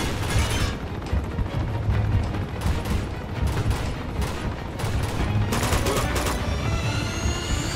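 Dense gunfire from a shotgun and other weapons during a firefight in the video game Uncharted 2, with loud bursts and blasts packed together continuously over a rumbling battle backdrop, no voices.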